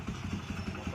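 A motorcycle engine idles with a rough, pulsing low rhythm, running unevenly in the background while a person talks over it.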